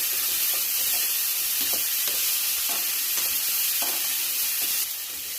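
Boiled, pre-salted chickpeas sautéing in hot oil with dried red chillies, a steady close sizzle and hiss running throughout with faint stirring scrapes, no voices.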